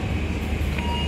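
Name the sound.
Argo Bromo Anggrek train at Bojonegoro station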